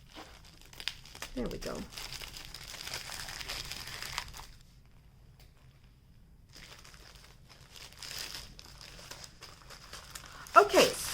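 Plastic packaging of a diamond painting kit crinkled and torn open, scattered crackling bursts with a sharp rip near the end, while a person talks briefly.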